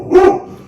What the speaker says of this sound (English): Bella's probably going to bark because UPS is about to drop off something.